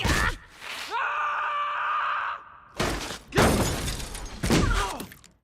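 A superhero character trips on his loose shoelace and crashes to the ground, giving a loud impact with a shattering, clattering burst, followed by a groaning voice and further heavy thuds and scrambling noises.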